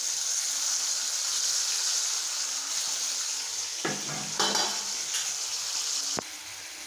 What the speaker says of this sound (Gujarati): ટમેટા એડ કરી દીધા છે હવે થોડા એને હલાવી લઈશું મિક્સ કરી દઈશું થોડી વાર શેકાવા દઈશું